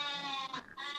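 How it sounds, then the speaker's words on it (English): Several goats bleating continuously close by, overlapping nasal cries with a short dip in the middle before the calling swells again. "I can hear a lot of goats sounding."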